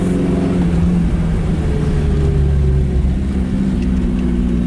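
A 1980 Chevrolet Chevette hatchback engine, loud and close, pulling away in first gear, a steady low mechanical drone whose pitch climbs slightly as it moves off, with no talking over it.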